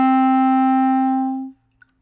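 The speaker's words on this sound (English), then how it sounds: "Let's learn how to play the note D on clarinet." A clarinet sounds a single sustained low D, the note just below the staff, held steady and clear for about a second and a half before it cuts off, played alone with no talking.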